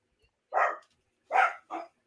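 A dog barks three times, close by: one lone bark, a pause, then a quick pair. No one talks over it.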